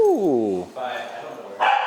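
A dog vocalizes in a descending whine-like yelp, then gives softer muffled woofs and a final sharp bark, close by, during a session on problem dog behavior.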